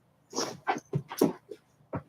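A toy schnauzer named Goliath whimpers indoors, giving several short, close whines and yips in an uneven series with brief pauses between them.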